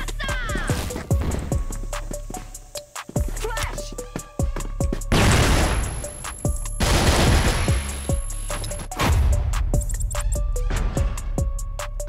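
Rapid gunfire bursts and single shots in a tactical shooter match, close and loud, with sharp cracks across the whole clip and crashing impacts, while players talk over the action.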